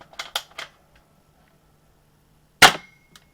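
Two quick bursts of pops from a BB gun, then a single sharp, loud AR-style BB rifle shot snapping into a cardboard box, close up, with a small tick just after and silence between.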